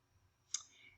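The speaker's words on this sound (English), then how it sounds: "So I'll just go ahead and click there" A single sharp computer mouse click, close and quiet, sitting alone in an otherwise near-silent room.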